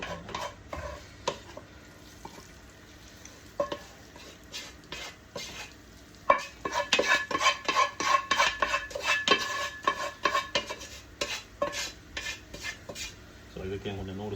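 Fried seafood and chicken noodles tossed in a pan for Sri Lankan-style noodles: a utensil scrapes and clatters against the metal in quick, busy strokes over a light sizzle, close up.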